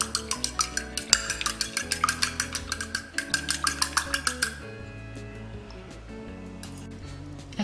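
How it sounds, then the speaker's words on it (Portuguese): Egg being lightly beaten in a bowl for a Hungarian sweet bread dough, a quick run of rhythmic clinking whisk or fork taps against the bowl that stops partway through, leaving faint kitchen rattles. "Aqui eu tenho um ovo que eu vou bater levemente."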